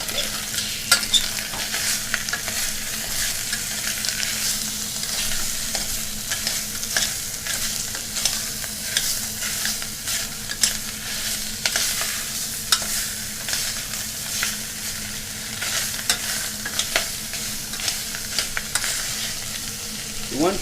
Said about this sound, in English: I'm gonna cook out the sausage. Now we'll toss it in. Brown this sausage.